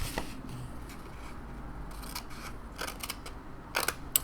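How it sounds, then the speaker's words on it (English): Scissors snip small tabs in paper for a mini photo album page, a steady run of close, crisp cuts and rustling with a few sharper snips near the end, no talking. "we're going to do the same thing as far as cutting our little tabs"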